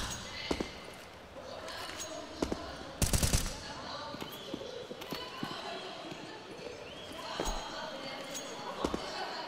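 Rifle gunfire in a professional Counter-Strike match between Cloud9 and Mouz at the IEM Rio Major, sharp scattered shots and short bursts over game ambience while a caster talks throughout.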